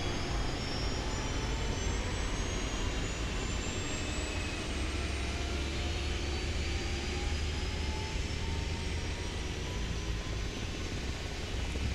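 Helicopter turbine spooling up after engine start in the video game Arma Reforger, a steady loud whine with rising tonal sweeps over a constant low rumble, continuous throughout with no talking.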